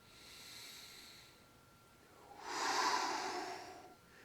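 A person practising tai chi warm-ups, knees slightly bent, takes a slow, audible breath in: a soft, airy inhalation swelling in the second half, close and fairly quiet with no talking.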